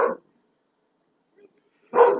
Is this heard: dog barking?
yes